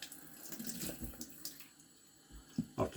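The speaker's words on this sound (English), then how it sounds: "I'm going to wash off the slurry" Running water washes slurry off a whetstone used to sharpen a restored Puma 22 knife, a steady close rushing hiss with brief splashy bursts toward the end.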